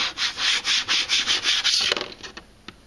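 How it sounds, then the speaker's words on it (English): A scraper is drawn firmly over transfer tape laid on layered craft vinyl cut with a Silhouette Cameo, making a close run of quick, even rasping strokes that stop abruptly, followed by a few lighter scuffs. "And then I'm gonna scrape it down, make sure it's all really well stuck"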